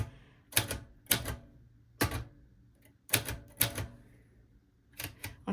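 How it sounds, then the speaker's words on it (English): Clattering typewriter keystrokes in short bursts of two or three strikes with pauses between, close and crisp, while someone works on a junk journal spread. "this is not the correct way to use a typewriter"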